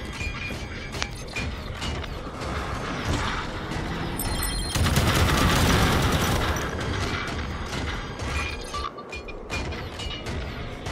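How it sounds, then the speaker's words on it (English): Dense, continuous gunfire and explosive rocket blasts in a Halo 5: Guardians mission, loud and sustained, with mechanical rattles and a heavier burst near the middle, no talk. "Throw some machine gun fire at them and get out of the way"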